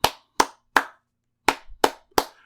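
Six sharp hand claps ring out in a steady rhythm with a brief gap in the middle, crisp and close, as a crowd claps along to a wrestler's entrance music.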